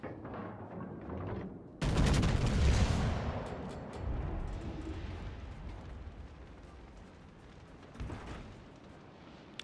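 A battleship's naval guns fire in World of Warships: Legends, one sudden heavy blast followed by a long rumbling decay, then a smaller thump later, all at low volume.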